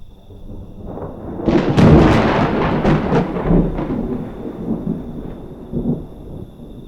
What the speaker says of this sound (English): Round 2 of the storms.